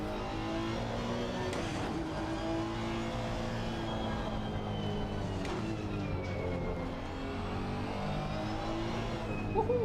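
Race car engine in Assetto Corsa Competizione, droning steadily with shifting revs and a couple of brief gear-change breaks, loud and continuous throughout.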